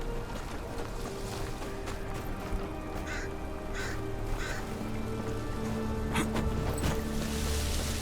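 Crows caw near a farm in a video game, several harsh calls repeating over a steady ambient bed with no talking.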